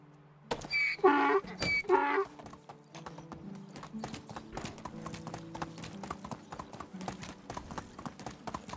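Hooves clip-clop steadily as a donkey walks in Medieval Dynasty, a quick regular patter of light knocks running for several seconds after a man's brief spoken call at the start.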